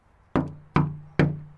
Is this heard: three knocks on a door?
yes